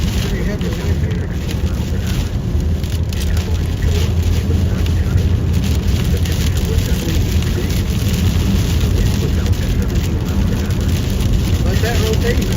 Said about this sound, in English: Pretty heavy wind here.